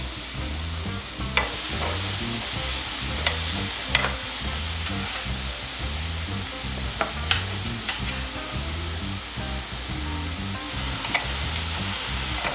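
Bone-in pork chops sizzling and spitting steadily on a Chefman indoor smokeless grill, a dense continuous fry with occasional sharper crackles and clicks throughout, no talking.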